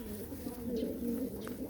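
Pigeons coo in a steady, low, throaty murmur that rolls continuously without pause, close and fairly soft, with a few faint higher chirps flickering above the cooing.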